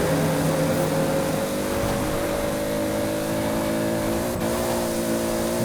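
A Toyota Supra's engine screams flat out in fourth gear in the racing game Forza Horizon 4, a steady high-pitched sustained drone with a brief blip near the end, loud and continuous.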